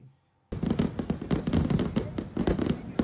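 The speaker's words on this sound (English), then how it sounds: "Fireworks going on in the background." Fireworks crackle and pop in rapid bursts, a dense, loud volley of bangs after a brief silent moment.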